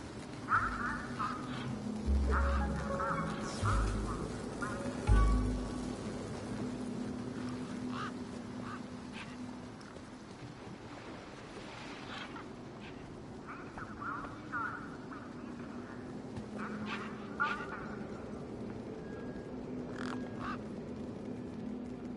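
Bird quacks from the video game Beyond a Steel Sky, a few brief calls near the start with scattered squawks later, set over a steady low ambient game hum and faint background sounds.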